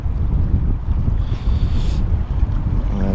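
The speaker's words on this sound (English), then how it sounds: "I'd say that wind's really got up now." Strong cold wind gusting over a lake, a steady broadband rush with buffeting against the microphone, close and loud throughout, with no talking.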